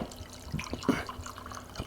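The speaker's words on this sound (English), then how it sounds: "pour about 2 ounces in on top of that" 100 proof Old Forester whiskey poured over citrus zest, a few short splashes and drips close by in a quiet kitchen, without talk.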